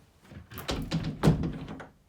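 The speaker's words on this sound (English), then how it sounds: "Once you close the door" A wooden shed door in a 10x16 foot shed converted to a craft room swings shut with a couple of soft, close thunks, quiet handling noise around them.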